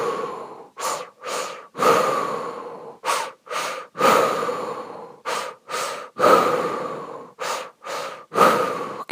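Close, loud guided breathing repeats in a steady cycle, each two-phase inhale drawing into belly then chest, followed by a breathy exhale through the mouth, a dozen or so strong breath bursts with brief pauses between.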